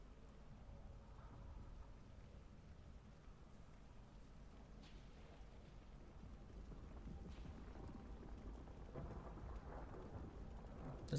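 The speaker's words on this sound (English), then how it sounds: "There's no music now, it's just thunder and lightning" Rain falls steadily in a stormy scene in the fishing game Dredge, a soft continuous hiss with low rumbling thunder underneath, faint throughout.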